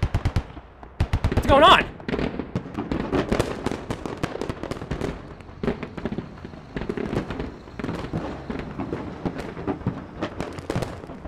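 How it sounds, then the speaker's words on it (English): Rapid bursts of automatic gunfire and scattered shots crackle through a Squad tournament battle, a dense volley near the start followed by steady, irregular shots throughout, with a voice briefly speaking over it. "Oh wow, people are already shooting."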